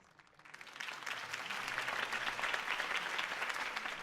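Crowd applause after a campaign speech in the video game Batman: The Telltale Series, swelling from quiet scattered claps into sustained, fairly distant clapping that holds steady to the end.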